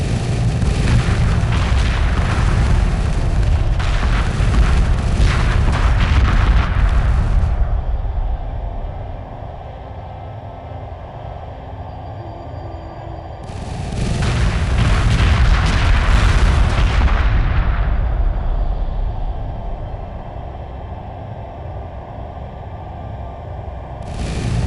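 A fleet strike group attacks in Homeworld Remastered, producing two long, heavy barrages of booming explosions and rumbling fire, each lasting several seconds, with a deep, steady drone between them.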